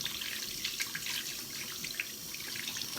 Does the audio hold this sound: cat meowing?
no